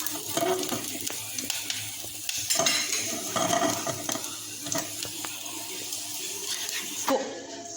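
Pasta with garlic is stirred in a pan off the flame, with repeated scraping and clinking of a utensil against the pan over a faint lingering sizzle, close and steady with no talk.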